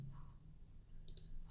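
A few sharp computer mouse clicks land near the end, soft and close, over a faint steady low hum with no talking.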